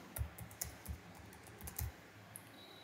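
Name is typed on a computer keyboard into a questionnaire form, a quick run of close, light key clicks in an uneven rhythm that stops near the end.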